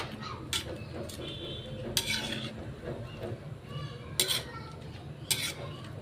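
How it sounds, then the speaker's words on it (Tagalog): Shrimp being stirred with salt in a cooking pan, with soft scraping and clinking of a utensil against the pan and a few sharper knocks over a steady low background. "Halo-haloin lang."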